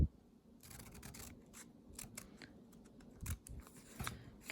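Scissors snip through a paper sleeve pattern in a series of crisp, close cuts, short rasping strokes repeating at an uneven pace in a quiet room.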